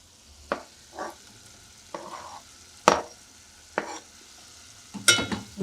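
Onions frying toward golden brown in a pan, with a handful of separate stirring scrapes and short sizzling bursts spaced irregularly over a quiet background.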